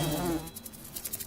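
Green wasps in the fantasy game Lords of Xulima give off a brief, close insect buzz, a droning whine that thins into faint flickering wingbeats against a low game background.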